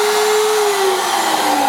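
A fast-spinning machine with a bit runs at very high RPM as a steady, loud, close whine, its tone drifting slightly lower and then settling. No voices are heard.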